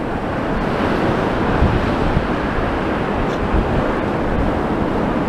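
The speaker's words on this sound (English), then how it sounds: "here I am today to film the high tide as I walk along the prom" High tide waves along Blackpool promenade, a loud continuous roar of surf crashing and churning nearby, mixed with heavy wind buffeting the microphone, no talk.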